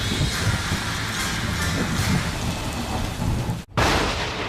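Heavy rain pours steadily while thunder rumbles low beneath it during a thunderstorm, the dense hiss briefly dropping out before resuming just as loud.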